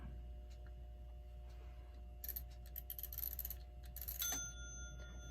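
A 1936 Ingraham SSD8 strike clock under restoration sounds a few faint metallic chime strikes over a steady low background hum, the last strike ringing with a thin, lingering tone.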